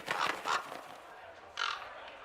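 A raven caws in Dragon Age: Inquisition, three harsh, fairly close calls: two in quick succession, then a pause and a third.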